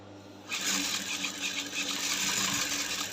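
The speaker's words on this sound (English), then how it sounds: "Then I'm going to sew now." Sewing machine stitching a lace bustier yoke, starting abruptly and running as a steady, fast mechanical whir with a faint rhythmic chatter, close and continuous without talk.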